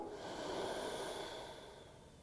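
Steady nasal breathing during a yoga pose held in downward facing dog, a soft, close, airy exhale with hissing texture that fades toward the end, no talk.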